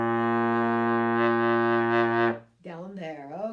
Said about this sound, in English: We're going to start with a low B flat. It should sound like this.